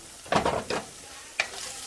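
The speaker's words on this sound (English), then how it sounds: "We're gonna mix it in while we fry up that ham" Ham frying in a covered pan on low heat with rice and corn, stirred around, giving a few scraping, sizzling bursts separated by brief quieter gaps.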